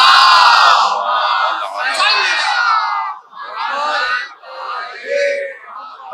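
A large gathering chants salawat together at full voice, a booming massed recitation in several surging phrases with brief dips between them, loud and close.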